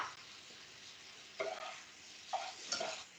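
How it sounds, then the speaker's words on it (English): Onion mixture being stirred in a pan, soft scraping strokes with a few louder clinks of utensil against the pan over a faint sizzle. "Yes, we're going to mix."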